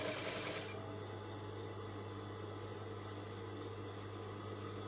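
A sewing machine stitching a shirt collar runs in a steady, continuous mechanical whir with a low hum, close up and unbroken, after a brief louder start.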